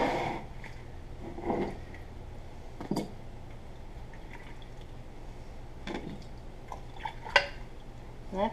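Pickles being dished into quart jars through a jar funnel, giving scattered wet clinks and soft splashy drops with pauses between, close and fairly quiet.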